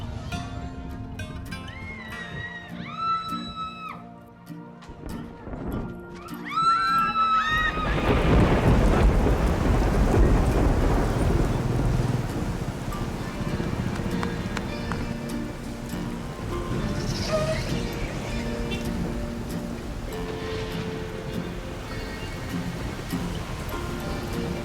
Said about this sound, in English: This is a super typhoon, and that means sustained winds well above 200 kilometers per hour.